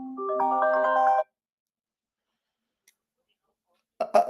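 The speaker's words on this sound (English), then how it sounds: "Why is my phone ringing there?" A mobile phone ringtone plays a short, clear electronic melody for about a second, then cuts off into near silence before a brief burst of other sound at the end.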